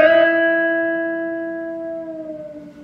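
A guitar fitted with a B-bender sounds a single picked chord, then the B string is bent down and slides in pitch as the sustained notes slowly fade, with no talking.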